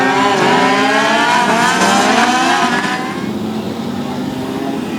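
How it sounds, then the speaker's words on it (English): INEX Legends race cars on a short track at Thunder Hill Speedway roar past close and loud, their engines buzzing and rising in pitch, then the noise eases back to a steadier drone. "Legends.Direct INEX Legends on the track right now."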